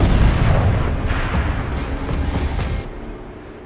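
A turret fires in Horizon Zero Dawn, a loud, heavy boom that rolls off into a rumbling tail, followed by a few fainter thuds before the sound dies away.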